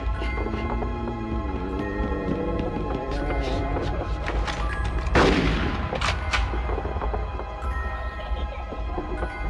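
Double-barrel shotgun blasting in Conker's Bad Fur Day, one loud sharp report standing out over a steady bed of game music and ambience.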